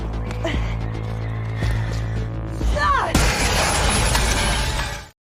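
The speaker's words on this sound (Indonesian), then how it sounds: "memecahkan kaca agar putranya bisa keluar dari sana" A car window being smashed in a dramatic series scene bursts into a sharp crash of shattering glass, followed by a long bright tinkling spray of shards under tense background music.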